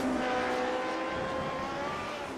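Race car engine at Road America heading into turn 1 during a retro series grand prix, a loud sustained high-pitched roar with shifting engine tones throughout.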